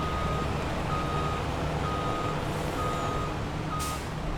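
A truck backs up in Farming Simulator 22, its reversing alarm beeping at an even, steady pace over a constant low engine drone, with a brief hiss near the end.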